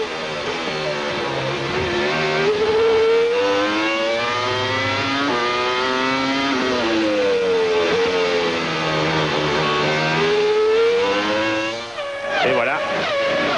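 Formula 1 cars at the 1999 European Grand Prix at the Nürburgring, with whining high-revving engines rising and falling through gear changes as the leading pack passes close together, loud and continuous under a commentator's voice.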